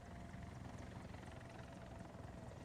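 An aircraft engine drones overhead in War Thunder, a faint, steady rumbling hum that holds evenly across the whole short stretch with no voices.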